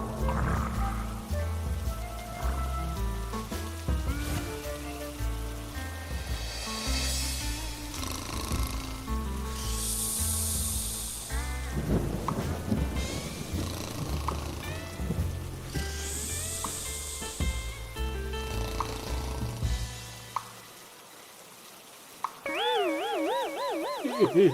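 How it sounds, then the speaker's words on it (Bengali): Rainwater drips through a leaking roof at night, a layered patter of drops over a steady rain-like wash that plays alongside music and stops abruptly near the end. "জল পড়ছে কেন? চাল ফুটো হয়ে গেল নাকি?"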